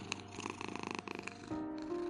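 A white female cat purrs softly in quick rhythmic pulses while being picked up and held, followed by a brief steady tone, quiet and close with no speech.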